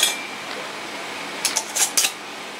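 A metal lid and top go onto a glass canning jar of pickles, giving several quick light clinks and taps close by, clustered near the end after a short quiet stretch.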